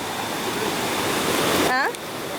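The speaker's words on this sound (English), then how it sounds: "The Ugly River it is." Rushing water of the Ugly River in St Mary, Jamaica, a loud, dense, steady roar filling the whole clip, with a brief voice cutting in near the end.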